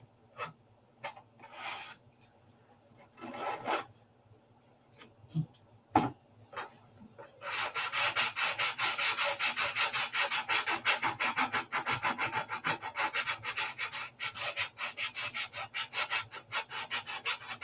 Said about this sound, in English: Guys were asking how easy it is sand it. I just, about 4 or 5 swipes and you're done.